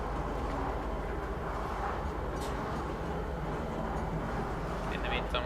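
Steady, loud rumble of a train ride to the spaceport in Star Citizen, a continuous low rolling drone with no breaks, and a voice speaking over it.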